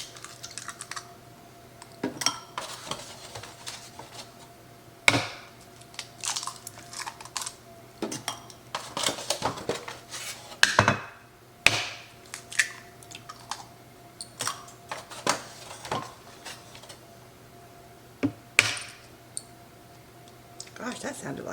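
Eggs cracked one after another for a chocoflan, four of them, landing in a bowl with milk already inside: sharp, close clicks and knocks scattered among softer kitchen clatter of dishes and utensils.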